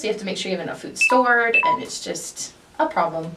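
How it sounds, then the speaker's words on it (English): A phone's low-battery alert sounds as a short series of bright tonal beeps that rise in the middle of a person's ongoing talk. "That was my phone saying that it's almost out of batteries."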